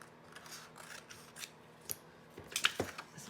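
Scissors snip through a strip of patterned paper in a few close, crisp cuts, the sharpest closing together near the end, with no one speaking.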